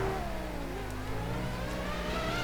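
An F1 car engine in the racing game F1 Challenge 99-02 accelerates out of the pits at Belgium, revving loud and steady with a rising, close whine and no voices.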